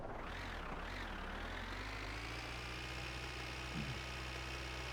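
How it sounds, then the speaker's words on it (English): Old farm tractor engine running in the driving game My Winter Car, a continuous low rumbling drone that revs up and settles into a steady hum, close and constant, no voices. "And yes, I'm driving the tractor."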